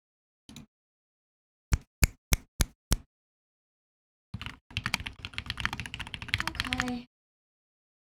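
A MODE 65 mechanical keyboard fitted with GMK Civilizations keycaps gives a single key tap, then five evenly spaced crisp clacks. After a pause comes a dense burst of rapid typing lasting several seconds, close and clear, with one brief spoken word.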